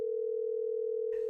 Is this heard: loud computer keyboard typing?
no